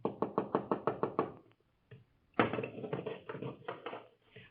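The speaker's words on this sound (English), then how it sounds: "a hurried knocking sounds at the door of the house of Gamaliel" Hurried knocking on the door of a house in ancient Jerusalem, a quick run of about eight sharp raps, a short pause, then another burst of faster, busier knocks close by, with no voices.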